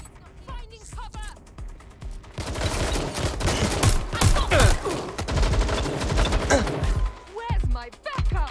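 Sustained gunfire fills a Watch Dogs Legion firefight, dense bursts and shots rolling on for several seconds after a quieter opening, with voices speaking over the shooting.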